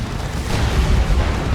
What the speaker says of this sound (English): Plasma cannon shots coming in.